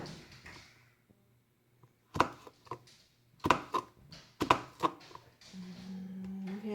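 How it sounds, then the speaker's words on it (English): A knife chops vegetables on a cutting board for chili, a handful of distinct sharp knocks in uneven clusters, close and clear against a quiet kitchen with a low hum. "Yes, I know this is how you shouldn't chop vegetables"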